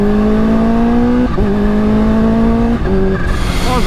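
Kawasaki H2 motorcycle engine, 280 hp, at high revs, a loud tonal whine climbing through rising pitch sweeps broken by quick drops at each gear change, with no talk.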